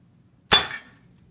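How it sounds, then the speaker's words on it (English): A ballistic pendulum gun fires a ball with one sharp, loud crack that rings briefly and fades within half a second, alone against near silence. "We'll fire the gun."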